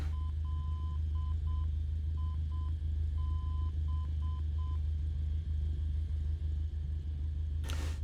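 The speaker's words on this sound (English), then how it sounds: "Should get some Morse code here in a second" Morse code identifier tones from a VOR station on the Nav1 receiver in Microsoft Flight Simulator, a steady beeping of short and long dots and dashes repeating over a constant low engine rumble, ending with a brief burst of noise.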